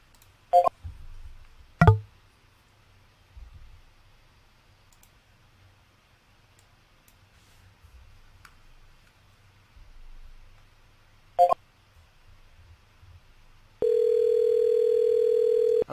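An outbound call started from a dialer system: a few sharp isolated clicks spaced across near-silence, then a steady, loud dial-type tone that begins near the end and holds unbroken.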